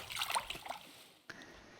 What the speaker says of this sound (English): you want to place a block of water there, and as you can see, that will flow all the way along like that